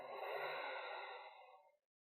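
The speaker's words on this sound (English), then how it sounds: "Exhale." A single long exhale from a yoga student at the close of a mandala flow class, a broad breathy rush that fades out over about two seconds, close and alone.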